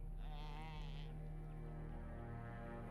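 A halla, a deer-like animal from Dragon Age Origins, lets out a single wavering bleat, close and clear over a steady low ambient hum that fades into a quieter tail.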